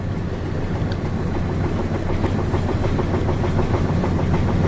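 The main engine of a bulk carrier cargo ship runs in its engine room, a loud, steady, deep mechanical rumble with a rapid rhythmic knocking pulse throughout and no voices.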